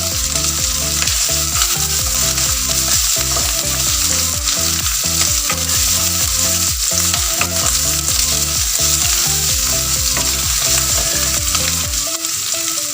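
Anchovies and coarsely crushed garlic fry in a pan. The sizzle is loud and dense throughout, with rhythmic stirring scrapes over it, cooked for a tomato leaf and green dal dish.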